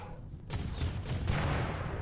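Autocannon turrets firing in RimWorld, a rapid run of overlapping shots and booms that thickens into a dense, rumbling barrage.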